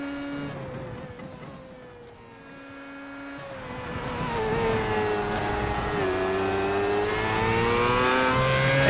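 A Formula 1 car lapping Motegi in iRacing revs hard and alone, its engine dipping briefly before climbing through rising, slightly falling gear pitches, loud and close.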